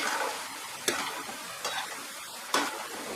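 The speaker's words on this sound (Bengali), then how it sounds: "এবার এগুলোকে আমি ভেজে তুলে নিচ্ছি" Boondi batter drops frying in hot oil give a steady, close sizzle, with a few sharp clatters and bursts of fresh crackling as more batter hits the pan.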